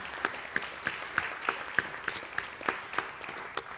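An audience applauds at a live capstone event, steady clapping from many hands with sharp individual claps standing out. It is moderately loud and continuous for a few seconds with no talk over it.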